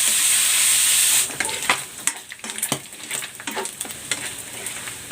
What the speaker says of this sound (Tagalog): Hahayaan ko muna itong ma-render yung fat nito.